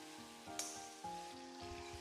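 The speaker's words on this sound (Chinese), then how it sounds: "用铲子给它搅动搅动。" Pumpkin and okra being stirred with a spatula in a wok, seasoned with salt, sugar and oyster sauce, give a steady close sizzle with one sharp scrape, over a soft tonal background.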